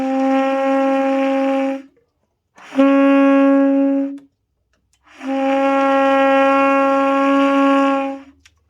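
A saxophone plays middle E flat using a flute F sharp fingering with the octave key held, giving a stuffy, odd tone; three sustained notes, each a couple of seconds long, separated by short silences, played close and clear.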